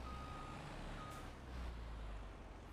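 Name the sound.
truck reversing beeps in Farming Simulator 25 video game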